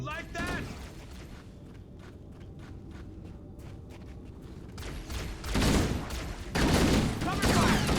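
Gunfire from the video game Halo: Combat Evolved Anniversary crackles in rapid bursts and scattered shots, growing louder toward the end amid explosive rumble, with a player speaking over the action.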